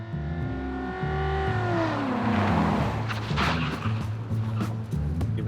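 An armoured state car swerves through a zigzag course in an ambush simulation, engine revving up and falling away under sustained load, with faint tyre and clatter noise near the end.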